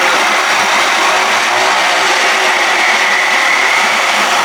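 A 1979 Evinrude 55 hp outboard motor running at a steady speed with a rubbing noise, loud, close and continuous with a bright buzzing whine and no change in pace.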